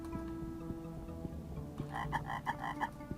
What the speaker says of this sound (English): we've got a little frog, and the frog likes to make noise